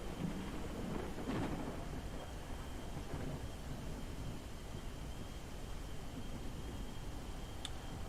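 Steady storm roar with rain hiss and a low rumble of thunder around a spaceship flying through a storm in the space game SpaceBourne 2, continuous and fairly loud with no speech.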